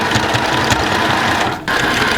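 A sewing machine runs steadily, stitching back and forth to secure a tie on a summer dress, a loud continuous mechanical whir with a brief dip in pace near the end.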